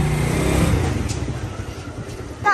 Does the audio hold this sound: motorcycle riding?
yes